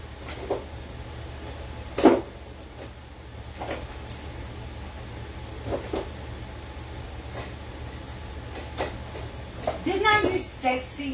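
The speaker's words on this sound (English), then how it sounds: "I'm over here in my spice drawer searching for it" Someone rummages through a cluttered spice drawer in a kitchen, scattered knocks and rattles of jars and containers breaking a quiet room hum, with a louder clatter near the end.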